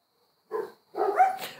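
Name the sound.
dogs barking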